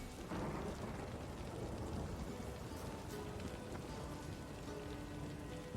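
Steady, loud, dense rain hisses without a break throughout a storm in The Witcher 3, with low rolling thunder underneath and no speech.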